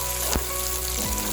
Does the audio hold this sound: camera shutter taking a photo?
no